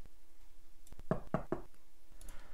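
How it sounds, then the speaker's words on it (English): Three knocks at a door, quick and evenly spaced, close and sharp against a quiet room with faint background hiss and no talking. "I heard knocking at the door"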